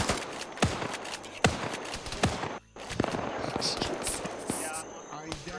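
Gunfire in a military video game: sharp rifle shots crack at irregular intervals, some in quick pairs, with a brief near-silent gap midway and voices talking over the firing.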